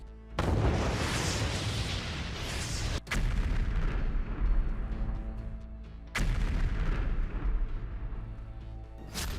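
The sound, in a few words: explosions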